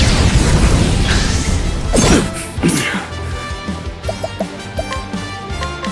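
A fire spell attack hits in Octopath Traveler 2, a loud crackling blast and crash followed by bright, sparkling chimes and drips as the effect fades, all over steady game music.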